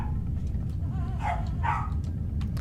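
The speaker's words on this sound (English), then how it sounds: "that dog is actually getting really annoying. You can probably hear her" A dog in a nearby room lets out two or three short, sharp yips and barks over a constant low hum of video game sound.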